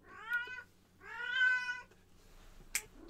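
A house cat gives two drawn-out meows, the second longer and louder, from nearby in a quiet indoor room, followed by a brief sharp click.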